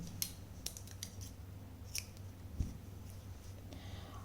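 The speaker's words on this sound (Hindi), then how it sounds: "अब लास्ट में हमने एक चेन लेके धागा कट करेंगे" Scissors snip crochet thread in a few quiet, close cuts with short pauses between them, set against a low steady hum.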